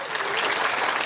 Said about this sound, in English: Have you still got your round of applause sound?